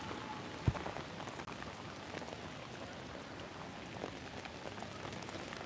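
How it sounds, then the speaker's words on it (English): Heavy rain pouring down on a city street, a steady broadband hiss of drops hitting the pavement with a single sharp tap near the start, continuous and enveloping with no voices. "Jesus Christ, everybody, it's pouring rain."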